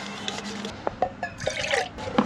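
Hot water pours into a cup for coffee, giving a few soft drips and splashy trickles over a quiet background, with small bursts of liquid noise rather than a steady stream.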